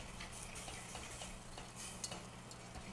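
A Rada whisk stirs a mixture rapidly in a pan, giving a continuous scraping, swishing rattle with faint ticks throughout, heard alone at moderate level.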